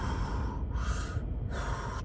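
A voice imitates heavy, nauseous breathing, three strong gasping breaths in an even rhythm, close and fairly loud with no words.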